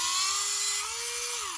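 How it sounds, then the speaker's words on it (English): A Tamiya handy drill bores a hole in a mini 4WD wheel, giving a steady, close, high-pitched motor whine that drops slightly in pitch toward the end. "I recommend to use this Tamiya handy drill and put those drill bit on top of that"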